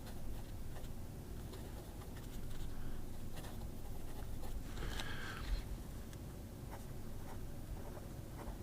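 Fountain pen writing with thick Rohrer & Klingner Old Bordeaux ink, soft continuous nib scratching on paper, close and steady over faint room noise with no talking.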